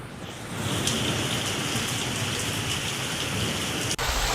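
Heavy rain pours steadily during a storm with hail in Chhattisgarh, India, a dense, loud, continuous hiss and patter with strong wind, close and unbroken throughout, no voices.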